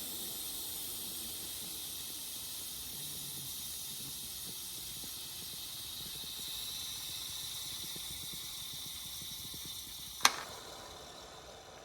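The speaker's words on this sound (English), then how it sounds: "we're getting a little bit more of the pressure released out of there" An Instant Pot venting pressure through its steam release valve while cooking chicken burrito bowls, a steady, fairly quiet hiss throughout, broken near the end by one sharp click.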